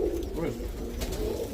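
Roller pigeons, including an ash red bird and its kin, coo in low, continuous murmurs close by, with a voice talking over them throughout.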